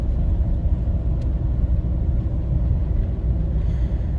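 A 2024 Ford Super Duty Tremor with the 7.3-litre V8 tows a heavy trailer, its engine a steady low rumble that shifts slightly as it drops gears, heard close and continuous with no talk.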